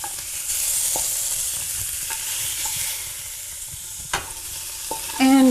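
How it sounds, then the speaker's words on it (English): Tofu tipped into a hot pan for a vegan matar paneer sizzles with a steady hiss, broken by a few light clinks of a utensil against the pan and a brief scrape near the end. "we'll go ahead and add our tofu in there."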